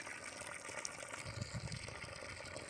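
Water from a 550 watt solar water pump pours out under overcast skies as a faint, continuous gushing splash with a low burbling underneath, no voices heard.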